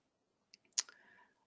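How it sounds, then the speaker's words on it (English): A computer mouse clicks on a trading chart: a couple of faint ticks, then one sharp close click followed by a brief soft rattle, all quiet with no talk. "left click on your chart"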